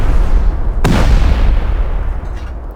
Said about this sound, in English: we'll just throw a nasty little rocket down there